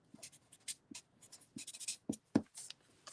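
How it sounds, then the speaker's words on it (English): A pen scratches handwriting onto paper seed packets for Vanilla Ice sunflowers. Soft, close strokes come in short irregular bursts with brief pauses between words. "then I just want to write the variety on the back"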